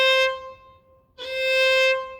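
Two sustained violin notes, bowed only on the A string, sound clear and close, the first fading out before a second long note enters after a brief gap.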